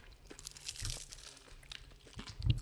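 Flaky Portuguese egg tart pastry crunching and crinkling under a few close bites, with brittle crackles and a sharper crunch near the end.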